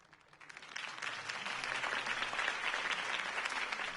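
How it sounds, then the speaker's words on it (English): Applause from a crowd in Batman: The Telltale Series swells in and holds steady, a dense wash of clapping heard at a moderate distance. "could have heard that applause"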